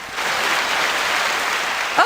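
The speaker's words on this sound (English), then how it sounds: "The crowd is going wild." Studio audience applause plays as a sound effect, a loud, dense burst of clapping sustained for a couple of seconds before cutting off abruptly.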